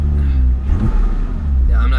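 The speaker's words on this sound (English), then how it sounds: "If I rev the vehicle" A Porsche Cayman engine revving from inside the car with the windows down, a loud low rumble that swells and eases as the pedal is pressed, with someone talking over it.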